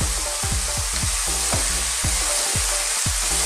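Onion, garlic and ginger sizzle in a pan for an Ethiopian lentil stew, a loud steady fry broken by regular stirring scrapes about twice a second, with no talk.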